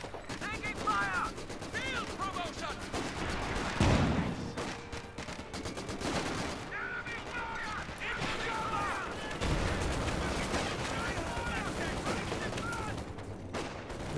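MG34 machine gun bursts crackle through a Company of Heroes 2 battle, rapid gunfire and scattered explosions running throughout, with voices speaking over the combat.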